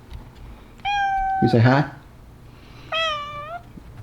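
A pet cat named Jojo lets out two meows, the first longer and rising, the second shorter, close by, with a person's brief voice heard between them in a quiet room.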